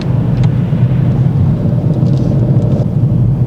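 A manual car pulls away gently from a junction during a driving lesson, a steady close engine rumble building as it accelerates, with no talk over it.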